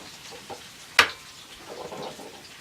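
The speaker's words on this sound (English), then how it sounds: "I will take my eggs in a bowl and I will crack them" An egg cracked against a bowl in a home kitchen: one sharp, close crack in an otherwise quiet room, followed by faint soft handling noises.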